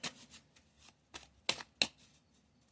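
A Cigano (Gypsy) fortune-telling card deck being shuffled by hand, several quick crisp riffling bursts separated by short pauses, close and clear with no talking.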